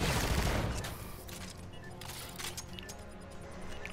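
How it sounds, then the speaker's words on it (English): Gunfire rings out in a competitive shooter video game, including a sniper rifle, with an opening burst of shots and then scattered sharp cracks over a steady game background. "He takes one down with that sniper"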